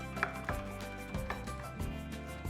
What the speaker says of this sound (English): Run your knife all the way along